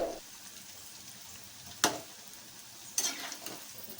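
Rice flour bondas frying in hot oil, a steady soft sizzle running throughout, with two sharper scraping bursts as the fritters are turned over.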